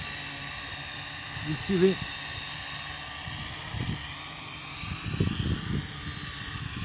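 An R'Bird DMS240 Black Master drone flying on its first flight, giving a steady high-pitched whirring hum that continues under intermittent French speech.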